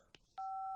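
A telephone is dialed for a call to India: two brief, quiet keypress tones, then a loud, steady dial tone that holds to the end.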